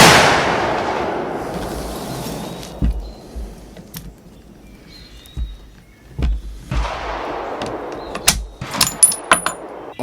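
A vintage Sedgley Krag rifle in .30-40 firing outdoors; one loud shot with a long rolling echo opens the sequence, then a second report follows midway, with small clinks and handling noises between the shots.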